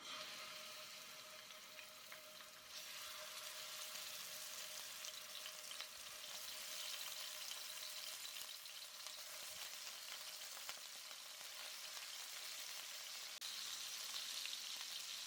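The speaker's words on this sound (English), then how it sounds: "I've heated up the oil so that the beef will brown quickly." Beef browning in hot oil for an Egyptian fattah, sizzling and crackling steadily throughout with a dense, even hiss and no voices.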